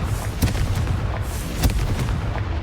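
Confringo blasting spells from the Hogwarts Legacy video game go off in a busy run of booming bursts, two stronger blasts standing out over a dense, continuous rumble of combat noise.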